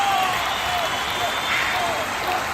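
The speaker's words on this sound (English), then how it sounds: "let's play the applause" Canned applause sound effect plays loudly and evenly throughout, a dense wash of clapping with no breaks during a live online happy hour.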